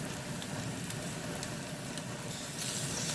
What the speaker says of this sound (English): Get a nice sear on it, get some diamond grill marks.